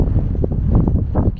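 Strong wind gusts roar across open water in Mongolia, buffeting the microphone with a loud, steady rumble that swells and eases, with no voices.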